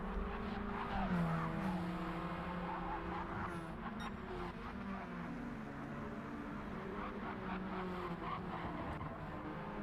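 Radical race cars lapping Big Willow Springs raceway during a Supercup race, engines droning and shifting pitch at a distance with faint tire squeal, a continuous layered roar from several cars.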